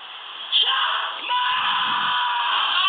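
Congregation shouting together at a prayer vigil, a sustained crowd yell with voices swelling sharply and holding loud over a reverberant hall.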